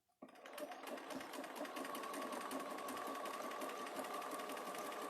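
A sewing machine stitches fabric in one continuous run, its rapid needle rattle starting abruptly and holding a steady, even pace, close and moderately quiet.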